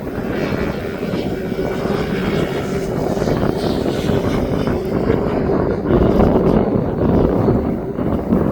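A Cessna 152 light propeller aircraft taxis across East Midlands Airport, a steady droning engine and prop buzz heard from a moderate distance, mixed with wind noise on the microphone and swelling slightly toward the end.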